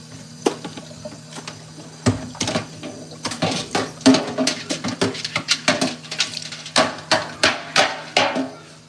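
Pork chops being cut on a kitchen counter, a series of sharp knocks of a knife striking the cutting surface, irregular at first then in a quick steady rhythm, close and loud with no talking.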